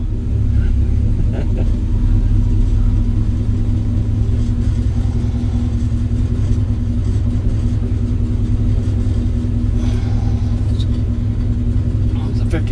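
A 1949 Chevy five-window pickup with a 396 big block V8 drives along, its deep engine rumble steady and loud from inside the cab, while someone talks over it.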